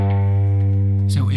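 A single note is fretted and picked on a guitar's low E string. It rings as a steady, sustained, close tone, and a short burst of noise near the end cuts it off.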